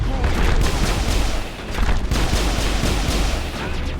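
Heavy, continuous gunfire rages through a shooter video game battle, with dense overlapping shots and blasts that barely let up, loud and close, with a sniper among the shooters.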